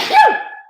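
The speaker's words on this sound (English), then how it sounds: "I'm about to sneeze, hold on" One sharp, close sneeze bursts out loudly and then trails off into a breathy tail, alone with no talking.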